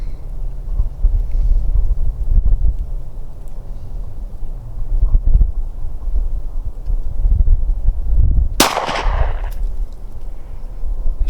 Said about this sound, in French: Glock 22 en 40.